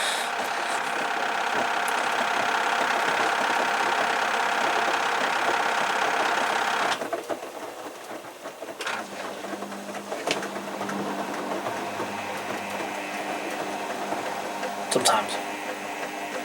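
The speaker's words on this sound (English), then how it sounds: "Pump's jammed." Jammed pump running with a loud, dense mechanical rattle that cuts off abruptly partway through, followed by quieter uneven knocks, a low whine and scattered clanks, close by.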